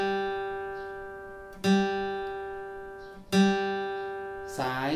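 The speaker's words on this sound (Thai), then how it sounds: "สาย3เสียง G ครับผม" Guitar's third string plucked as a G note for tuning, two clear ringing strikes that decay slowly, with a voice speaking briefly at the end.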